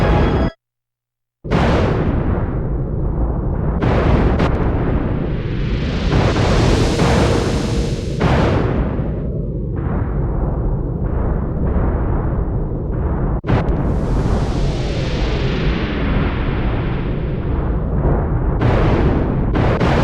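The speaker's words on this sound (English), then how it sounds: "I believe the quakes are getting worse." Earthquake rumbling in the video game Secret of Evermore: a loud, sustained, booming roar with crashing bursts, briefly cut to silence near the start, then rolling on continuously with no talk.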